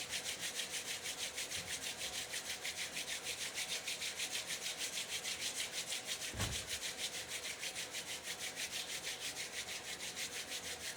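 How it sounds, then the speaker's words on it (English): Hands rub briskly together in a steady, even back-and-forth rhythm, a continuous soft swishing friction sound held close and alone for the whole stretch, with one brief thump near the middle. "Rub your hands together."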